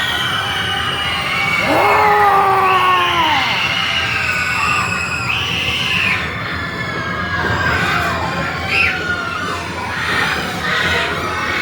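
Riders on the Gage Park miniature train in Topeka screaming through its tunnel of screams, several overlapping wavering shrieks and yells over a steady rolling rumble.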